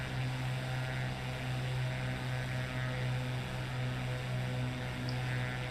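A Cessna 185 with big bush wheels landing on a long runway at KMTJ, heard from inside as a steady, droning engine and propeller hum that stays constant and fairly low in level, with no talking.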